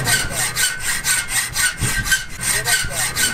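Repeated back-and-forth sawing strokes cutting through a part during a vehicle repair, a rhythmic rasping close by with about a dozen even strokes and no talk.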